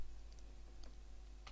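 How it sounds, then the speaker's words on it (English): Keystrokes on a computer keyboard while entering a spreadsheet formula, a few soft separate clicks over a steady low hum, close and quiet. "type if on the keyboard"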